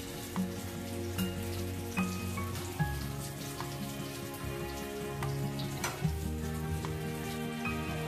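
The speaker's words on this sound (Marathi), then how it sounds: "अशाच पद्धतीने मी बाकीची कोळंबी फ्राय करून घेते" Prawns frying in a pan give a continuous crackling sizzle with scattered sharper pops and spits, close and moderately loud, with no voices.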